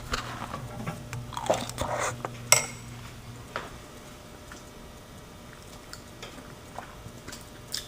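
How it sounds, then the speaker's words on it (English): A metal spoon clinks against a dish while stirring white vinegar and apple cider vinegar, giving a few light scrapes and taps early on, loudest near the middle, then fading into quiet room noise. "I'm just mixing it up, but just taking a spoonful"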